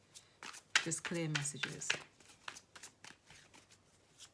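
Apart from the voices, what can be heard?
shuffling tarot cards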